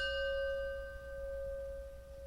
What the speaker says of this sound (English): As we listen to the chime, let us remember our connection to each other and the world around us.